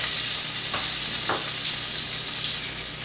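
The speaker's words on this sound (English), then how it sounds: "we'll melt this, then we'll add those 2 things in there and just saute them a little bit" Garlic sizzles steadily in melted butter in a pan, a dense, even frying hiss that stays loud throughout, with a couple of faint stirring scrapes.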